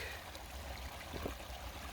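A creek flows softly outdoors beside a garden, a faint, steady trickling rush with a brief splashy burble partway through and no talk.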